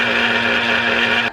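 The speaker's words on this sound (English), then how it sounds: "I'm just gonna blend these" A blender grinds dried shrimp flakes with regular salt in a steady, loud, continuous whir that holds evenly for over a second, then cuts off abruptly near the end.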